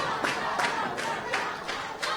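A wrestling crowd in the John Boy Auditorium in Clewiston clapping together, a dense rhythmic pattern of roughly evenly spaced claps in a large hall, moderately loud, with faint voices mixed in.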